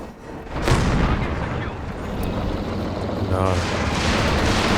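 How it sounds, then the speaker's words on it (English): Stuka dive bomber barrage in a World War II strategy video game: deep, rumbling explosions and booms roll together into a continuous loud barrage, while someone briefly speaks. "First Stuka barrage is over here against the veteran M1."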